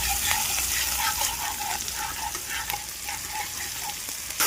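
Ginger garlic paste sizzles steadily in a kadai with cumin seeds and onion for a dal ghosh, a dense continuous frying hiss with small spattering pops and occasional stirring scrapes, close and loud throughout.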